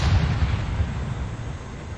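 The battleship Iowa's main guns in a refit mod rumble in a heavy, sustained blast, a deep booming roar that stays loud and dense throughout with no speech.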